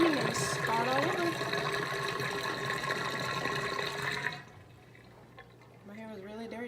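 Water drains away after a hair rinse, a steady rushing and trickling that fills the first few seconds, then cuts off abruptly and leaves a faint, quieter drip with a brief voice near the end.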